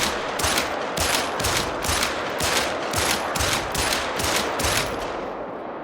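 A sidearm in the hunting game theHunter: Call of the Wild fires as fast as possible, with about a dozen sharp, loud shots at an even, rapid rhythm, each cracking on its own without talk.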